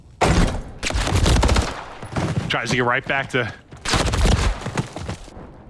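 Bursts of rapid automatic gunfire in a Call of Duty Control match, including a wall bang shot, loud crackling volleys that break briefly while a caster talks excitedly over them.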